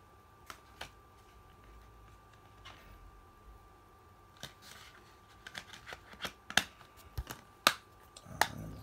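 Final Fantasy XV Day One Edition Xbox One game disc being fitted back into its plastic case, a string of sharp close clicks and snaps that grow denser and louder toward the end, with a final clack.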